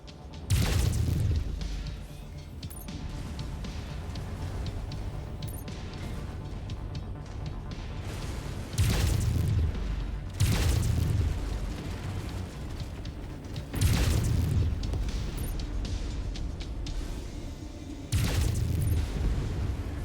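Repeated heavy booms from destroyed targets in MechWarrior 5: Mercenaries, five or so loud blasts spaced a few seconds apart over a steady rumbling mech battle drone.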